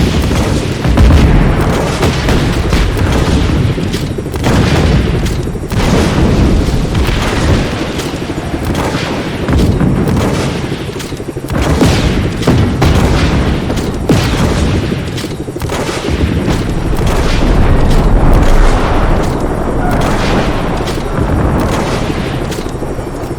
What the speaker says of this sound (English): Finally, it blew up.